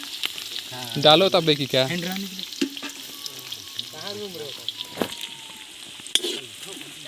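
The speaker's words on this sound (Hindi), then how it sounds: "यहाँ पर मिर्ची फ्राई हो रहा है चिकन बनने के लिए" Chillies frying in hot oil for a chicken dish, a steady loud sizzle with occasional stirring, while someone talks over it.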